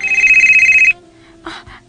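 A mobile phone rings loudly and close with a bright electronic warble for about a second, then stops; brief muffled rustling follows.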